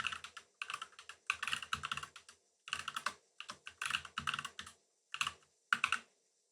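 Keystrokes on a computer keyboard while entering a cron job on a Raspberry Pi Zero 2, arriving in quick irregular bursts of clicks with short pauses between, close and fairly quiet, no voices.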